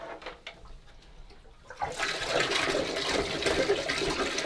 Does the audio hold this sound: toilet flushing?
yes